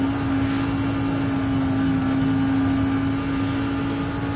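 Race car engine in the Gran Turismo 7 video game, a steady loud drone holding a constant pitch for several seconds with no revving, continuous and close.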